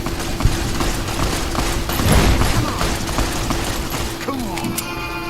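Gunfire in the video game Fallout New Vegas, dense bursts of shots and rattling mechanical clatter running continuously and fairly loud throughout.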